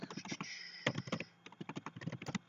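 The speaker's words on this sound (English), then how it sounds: "So I'm going to type in Call of Duty" Clacking keystrokes on a computer keyboard, irregular bursts of quick taps with short pauses between, close and fairly quiet, no talking.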